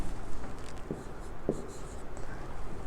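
Pen or chalk writing out an electron configuration, a steady scratchy stroke sound with a few sharper taps, close and fairly quiet, with no talking.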